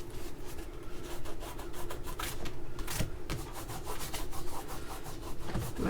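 Gummy washi tape being rubbed off an art journal page makes a steady, scratchy rubbing sound, close and continuous in repeated short strokes, with no talking.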